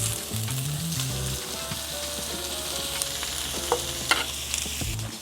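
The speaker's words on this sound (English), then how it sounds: "we're going to saute or caramelize our other veggies on this side" Anaheim chiles, onion and other vegetables sizzle steadily in olive oil on a hot cooking surface, a close, continuous frying hiss with occasional stirring scrapes, and no voices.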